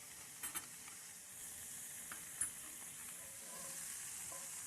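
Cream sauce reducing in a hot pan for pan-seared ribeye and beef tenderloin, a steady soft sizzle and hiss with a few brief spatters and stirring clicks, quiet and close.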